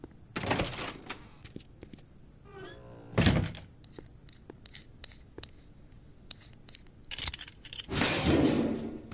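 Door handling in the Back to the Future adventure game: a series of thunks, metallic jangles and clicks, with several sharp knocks and a heavier bang, separated by short quiet gaps.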